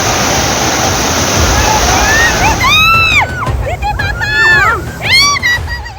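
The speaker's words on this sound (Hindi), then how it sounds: "पानी का ये प्रचंड प्रवाह प्राकृतिक विपत्ति की खौफनाक व्याख्या कर रहा है" Torrential flood water roars in a loud, broad, continuous rush, then loud voices call out over the flowing water.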